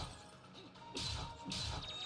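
Two heavy crashing impacts burst out in the video game Indivisible as a character smashes through walls, each a loud thudding break with a short rattling tail, over a faint game background.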